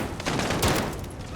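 Rapid bursts of automatic gunfire from Call of Duty: Modern Warfare crackle continuously and loudly, with a sharper shot standing out midway through the dense volley.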